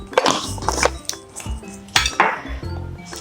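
Metal spoon clinking against a cooking pan as turmeric is added for dal palak, several sharp irregular clinks and scrapes close by.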